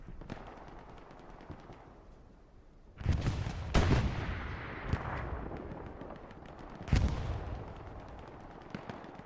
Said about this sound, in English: Boy holding that area down with an MG.